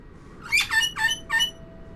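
A bird in the virtual-reality game Titanic VR, squawking in three or four sharp, close chirping bursts over a low steady background hum.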